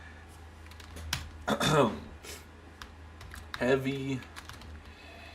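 Computer keyboard keys clack in quick bursts of typing, close and crisp, while someone speaks briefly over the clicks.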